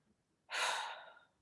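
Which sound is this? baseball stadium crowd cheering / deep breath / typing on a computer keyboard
deep breath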